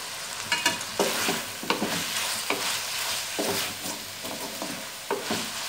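Chopped green chilli pieces hit frying chicken in a pan for a chicken pasta, a steady sizzle broken by repeated scraping knocks of a spoon stirring at an irregular rhythm, close and fairly loud, with no talking.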